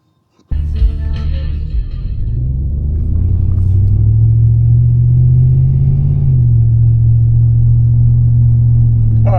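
A lifted 2002 Chevrolet Silverado 1500 pickup truck starts off and drives, with a loud, close, steady engine rumble that climbs slightly in pitch as it gets under way and then holds even. No one talks.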